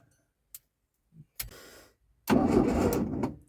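A 1997 VW Beetle, parked for years and fed starting fluid, cranks hard in a loud, sustained burst after a few scattered clicks and short bursts of noise, sounding close to the listener.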